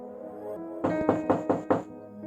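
Five quick, evenly spaced knocks on a house door, loud and close, arriving home at night during Ramadan in a village, set against soft background music.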